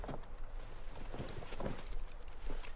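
Quick, even footsteps of a character running in the game The Day Before, close and fairly loud, a short regular patter with no voices.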